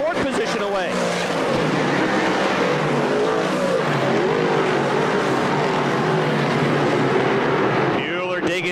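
Dirt track race cars circle Airborne Speedway in Plattsburgh, NY, engines roaring loud and continuous as the pack passes close, with a commentator talking over the noise.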